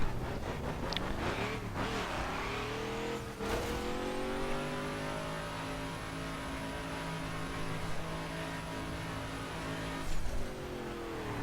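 A Mazda Miata engine in The Crew racing game revs hard and holds a steady high drone, with rising tones, short gear-change dips near the start and around the middle, and a brief squeal near the end; no talk.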